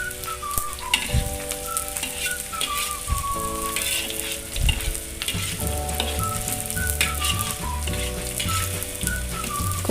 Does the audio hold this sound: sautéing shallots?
yes